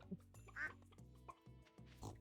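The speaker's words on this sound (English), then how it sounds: "I just tried to milk a duck or something." A cartoonish duck quack sounds on a video game farm among other animal calls like oinks and clucks, layered over a looping game melody; short, close and moderately quiet.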